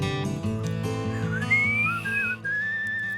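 A thin, wavering whistle rises and slides between pitches in a video game, heard over a steady bed of low, chord-like music.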